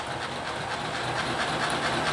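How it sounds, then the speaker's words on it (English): A Lionel model locomotive, run by remote control, hums and rattles steadily on its track with a faint rhythmic clatter and hiss, close up and constant, with no talk. "So I want to get the locomotive running again."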